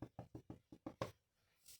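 Seven quick, loud knocks land on a door in an even, hurried rhythm, followed by a pause and a faint noise afterward.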